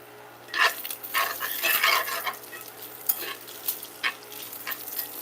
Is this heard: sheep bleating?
no